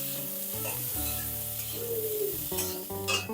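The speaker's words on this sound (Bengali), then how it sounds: "এবার এর মধ্যে দিয়ে দেব ডুমু ডুমু করে কেটে রাখা আলু। আলুটাও নাড়াচাড়া করে নেব।" Diced potatoes fry in ghee with a steady sizzle while being stirred, with scraping clatters of the utensil and a tonal hum in the background.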